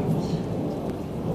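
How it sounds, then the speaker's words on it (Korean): A night thunderstorm in Kurabie captured on a phone: steady heavy rain and a low continuous rumble of thunder fill the whole stretch, dense and fairly loud with no voices. "몇 년 쿠라비에에서 밤에 번개가 하도 많이 쳐서 제가 잠깐 찍은 건데"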